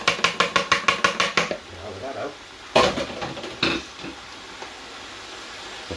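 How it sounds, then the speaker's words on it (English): Pasta being stirred in a cooking pot for spaghetti Bolognese, starting with a quick run of rhythmic metallic clinks and scrapes of utensil against pot, then a couple of louder clatters over a low background. "Make sure to keep my pasta stirred or it might stick."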